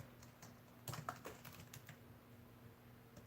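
Soft, rapid keystrokes on a computer keyboard as a message is typed into a chat, an irregular run of clicks through the middle, close but quiet over faint background hum.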